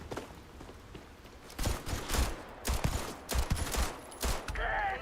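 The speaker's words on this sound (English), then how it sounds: "Not a bad pistol." Several pistol shots fire in a short irregular burst inside a video game, sharp cracks spaced about half a second apart, loud and close with no talking over them.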